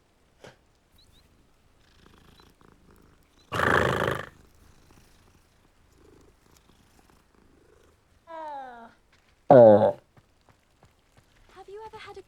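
Pet cat purring in Hogwarts Legacy, a soft low rumble drifting through quiet game ambience, broken by a few louder broadband bursts and short chirping tonal game sounds.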